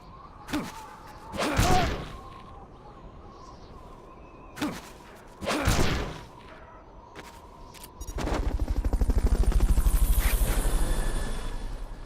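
Helicopter in a video game after a Fulton recovery, heard in the last few seconds as a loud, steady rotor chop following scattered gunfire-like thuds and blasts.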